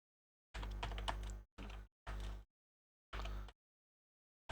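Bursts of typing on a computer keyboard, four quick clusters of close, crisp key clicks separated by short silences.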